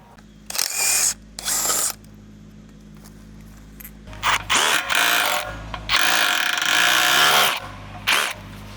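Ratchet wrench working a bolt to remove a plate on a Caterpillar 304 mini excavator, several short bursts of quick clicking with pauses between, then longer ratcheting runs, close up and fairly loud.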